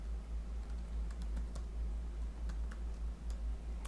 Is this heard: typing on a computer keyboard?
yes